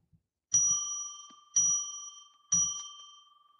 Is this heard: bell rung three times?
yes